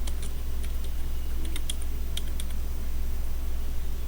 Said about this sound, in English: You will have to type your username, for example, Grace de Guzman, and then your password.